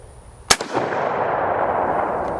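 A single sharp rifle shot from a Schmidt Rubin 96/11 Swiss straight-pull rifle, loud and close, followed by a long rolling echo that fades slowly across an open range.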